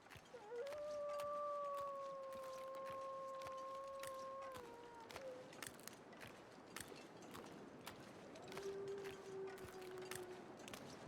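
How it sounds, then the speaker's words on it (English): Wolves in The Long Dark give long, wavering howls that hold steady then slide down and fade, followed by another lower howl, heard faintly over crunching footsteps and ticking clicks in a quiet snowy wilderness. "There's several wolves nearby."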